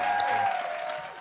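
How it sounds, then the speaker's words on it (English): A short burst of applause from a podcast audience or hosts, a steady wash of clapping at moderate level that fades slightly toward the end. "another clap for Jim"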